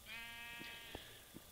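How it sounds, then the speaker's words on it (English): Sheep in the video game Minecraft bleat in a steady wavering cry, followed by a few soft clicks, quiet and alone with no talk. "These sheep have been messing up my crops and my grass"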